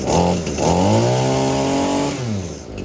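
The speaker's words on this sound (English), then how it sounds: "There you go, give it some gas and it'll start." An ECHO string trimmer engine fires up and revs loud and close, its pitch rising through two throttle bursts before easing back.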